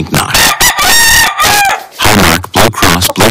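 A Delaware blue hen rooster crows loudly and close, a long ringing cock-a-doodle-doo broken by short squawks and clucks.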